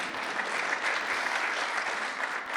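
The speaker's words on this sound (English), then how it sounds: "I love that that got applause" Audience applause fills the room steadily for a couple of seconds, dense clapping from a crowd at a talk, even and sustained without voices on top.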